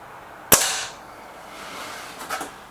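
Crosman Silverfox Nitro Piston air rifle fires a single sharp, close shot followed by a short fading tail, then a faint distant thud of the pellet striking the target.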